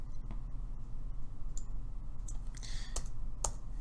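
Soft key clicks as numbers are typed on a computer keyboard, a few scattered taps at first, then a quicker cluster near the end over a low steady room hum.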